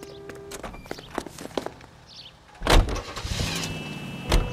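A car in the video game L.A. Noire: footsteps and door thunks give way to an engine starting and driving off, a rumbling motor rising under scattered clunks with no speech.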